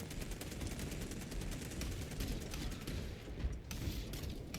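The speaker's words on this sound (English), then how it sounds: "But someone's shooting at me" Sustained gunfire in the Warhammer 40K game Space Marine 2, a dense continuous rattle of shots and battle noise that holds steady throughout with no voices.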